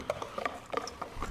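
Jerky marinade being stirred in a bowl before meat soaks in it, heard as a quick run of light, close taps and soft scraping clicks at an uneven rhythm.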